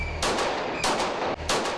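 Gunfire at an indoor-style gun range: three sharp, loud shots spaced about half a second apart, each with a short booming decay, close by.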